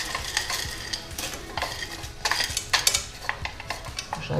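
Green beans go into a pot of chorizo and seafood one-pot pasta, with scattered clinks of a utensil against the pot, stirring scrapes and a soft sizzle beneath.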